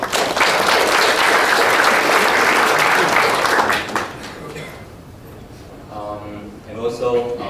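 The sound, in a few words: audience applause for the winning team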